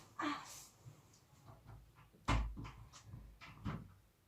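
A door is pushed shut with a sharp thud, surrounded by faint knocks, shuffling and soft handling noises in a quiet indoor room.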